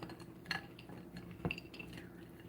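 Fruitcake ingredients being stirred in a bowl, a spoon clinking and scraping against the dish in a few sharp knocks with soft mixing between, close and quiet.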